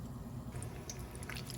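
Chicken pieces for popcorn chicken slip into hot frying oil over medium to medium-high heat, giving a soft, close, steady sizzling bubble with a few light pops and no voices.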